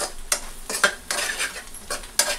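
Repeated stirring of egg rice masala in a pan: a spoon scrapes and clinks against the metal several times in an uneven rhythm. A faint sizzle sits underneath, and no one speaks.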